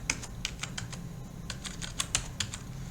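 Typing on a computer keyboard while entering a staff name, quick bursts of close, crisp key clicks in uneven clusters with short pauses between them.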